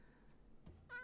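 A cat gives a single short meow near the end, fairly close, after a quiet stretch with a faint dull thump just before it.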